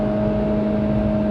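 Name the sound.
Renault Logan 1.6 SCe engine revving at 6,000 rpm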